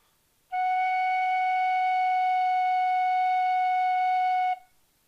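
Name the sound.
tin whistle playing the note F sharp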